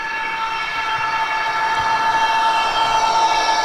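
A Murphy Models Class 201 Irish Rail diesel locomotive model, MM0222 'River Dargle', runs with its diesel engine sound at a steady drone that slowly grows louder, with a horn-like tone rising near the end and no talk.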